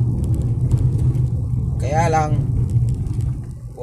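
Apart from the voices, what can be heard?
large vehicles passing on the road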